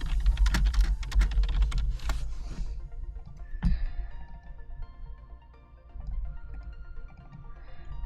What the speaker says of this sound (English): I'm sorry about the keyboard, I am a heavy typer